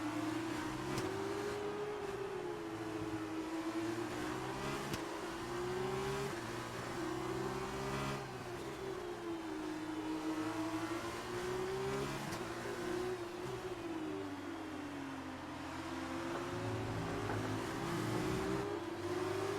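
In the F1 2019 racing game, a Formula car engine revs up and down through the gears in a repeating wavering pattern, steady and continuous, loud and without any voices.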